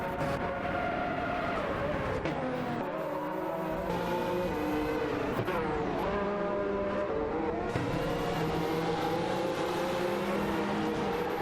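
Race cars in an AI racing video game roaring past in a dense, continuous engine drone, pitch rising and falling as they accelerate and shift, loud and close without any talk.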